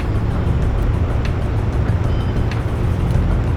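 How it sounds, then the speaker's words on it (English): Forklift engine driving around the harbor docks in Shenmue, a steady low mechanical rumble with constant broadband noise throughout, close and fairly loud with no talk. "driving a forklift."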